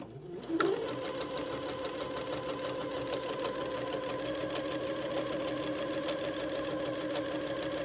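A sewing machine hems both layers of fabric for a baby raglan outfit, starting with a quick thump and then stitching in a fast, steady, even whir close by without pause.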